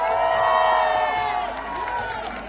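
Protest crowd at Jantar Mantar cheering and shouting in a loud, dense roar of many voices, swelling then easing slightly over a few seconds.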